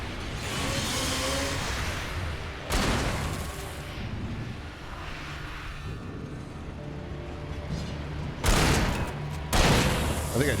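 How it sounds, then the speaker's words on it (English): Gunfire in the video game Alan Wake, dense crackling bursts and booming blasts in loud clusters, with a sharp pair of shots near the end amid chaotic game noise. "I think I just shot that one out of the air."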